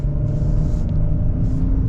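A lifted 2022 Ford Bronco Sport Big Bend with a 3-cylinder engine pulls away with a loud, steady low rumble close by, and faint hiss and road noise ride above it.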